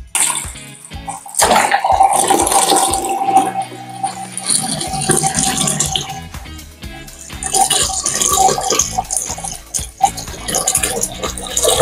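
Water from a hose runs into a homemade Venturi tube, a steady splashing fill with gurgling and some clatter, loud and close for most of the stretch.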